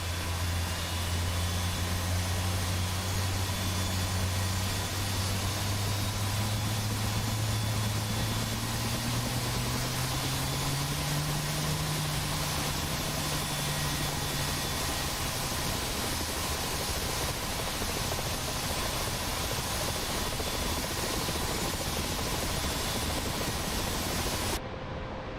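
Twin turbine engines of a UH-60L Black Hawk helicopter spooling up during startup in DCS World, a steady loud roar with a low whine rising gradually in pitch, no talking.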